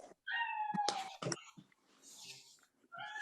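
A pet cat meows in two drawn-out, rising calls close by, with a shorter meow at the end, separated by soft rustling and a few faint murmurs in a quiet room.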